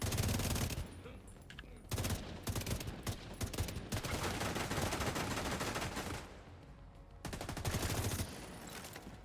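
Dense video-game gunfire fills the whole stretch, rapid overlapping bursts like machine guns and a fusillade, loud and continuous with brief lulls, during gameplay near a dock.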